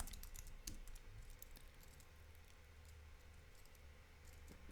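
Soft, rapid keystrokes clatter on a computer keyboard as a short chat message is typed, a quiet patter of clicks at close range with no voices.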